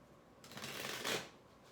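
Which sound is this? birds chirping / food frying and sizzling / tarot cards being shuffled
tarot cards being shuffled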